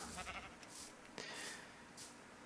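Sheep bleat in Minecraft, green sheep in a birch-built sheep village, a few short high bleats spaced across the moment over a soft steady background, fairly close.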